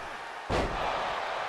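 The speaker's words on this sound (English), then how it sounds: "And slamming Jey Uso onto his back" In a wrestling ring, Duke Hudson slams Jey Uso onto his back on the mat, landing one heavy, booming thud that cuts through steady arena crowd noise.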